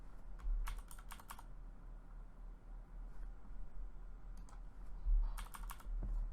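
Someone taps arrow keys on a computer keyboard in small clusters of quiet, close clicks separated by short pauses, over a faint background hum.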